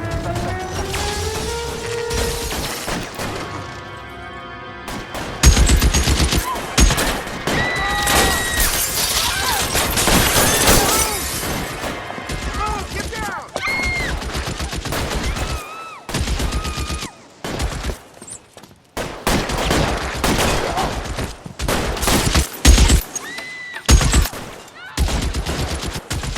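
Bursts of gunfire and machine-gun fusillades from a police shootout in the video game L.A. Noire crackle repeatedly, with glass shattering amid the loud, sustained exchange.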